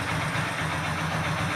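Motorcycle engine revving under load during a battery and self-start check, a steady, loud mid-low drone with a persistent hum and no voice over it.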